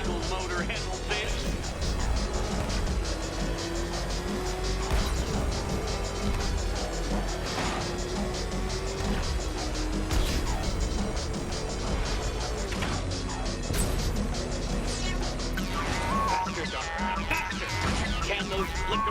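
Ramshackle car engine racing hard in Batman: Arkham Knight, a continuous loud roar with crashes and impacts mixed in and a voice talking over it throughout.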